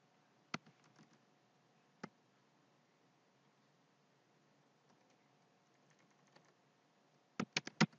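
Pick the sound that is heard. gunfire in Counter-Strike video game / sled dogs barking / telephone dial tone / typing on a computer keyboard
typing on a computer keyboard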